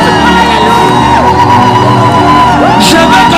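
A worship crowd at a praise and adoration gathering shouts and whoops for joy, loud and sustained, with overlapping yells and cheers filling the whole stretch close by.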